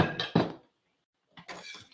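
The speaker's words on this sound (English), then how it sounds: "I'm gonna put it on the plate for y'all." Sea moss set onto a plate gives a couple of sharp, close clinks of dish contact, a gap of quiet, then a further cluster of clattering plate sounds.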